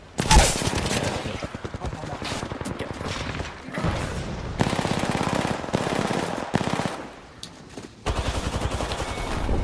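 Video game shooter gunfire: dense bursts of rapid automatic fire and single shots rattle almost continuously, pausing briefly before resuming, with faint voices underneath.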